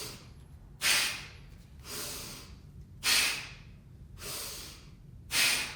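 Forceful exhales during a single-arm kettlebell mill exercise come as three sharp, loud nasal bursts, evenly spaced and each followed by a softer inhale, close to the ear with no talking.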